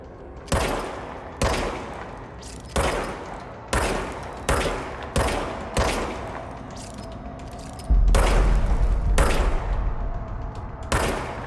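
Single gunshots from a handgun in the video game Control fire at irregular intervals, about ten loud, sharp reports with short decaying tails, followed near the end by a low rumbling boom under continued shots.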